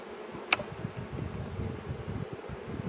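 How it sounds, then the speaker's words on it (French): Honeybees buzz in an open hive during an inspection, a steady low hum with faint insect drone throughout and one brief sharp click near the start. "Alors les abeilles, il y en a déjà moins."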